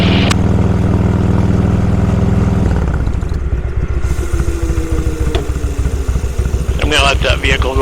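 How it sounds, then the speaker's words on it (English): A vehicle passes close by on a road at the Sturgis motorcycle rally in the Black Hills, a loud low engine drone that rises and then fades away, with steady traffic rumble behind it. "Let that vehicle go by me."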